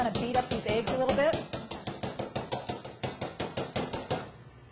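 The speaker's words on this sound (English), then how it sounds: "what I'm going to do before I add the milk is I'm just going to kind of beat up these eggs a little bit" Eggs beaten in a mixing bowl at an outdoor kitchen, a fast even run of sharp clicking whisk strokes, about three per second, close and fairly loud, with a voice over the first strokes.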